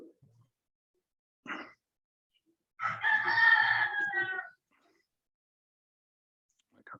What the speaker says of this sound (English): I can hear some chicken going on